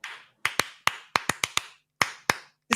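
Hand claps imitate the opening beat of a song: sharp, dry, close claps in an uneven, syncopated pattern of about a dozen hits with short gaps between groups.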